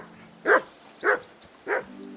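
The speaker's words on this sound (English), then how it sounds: "Henry, call that dog to heel." Three evenly spaced barks from a dog in Kingdom Come Deliverance 2, moderately close, with a faint musical background tone and no speech.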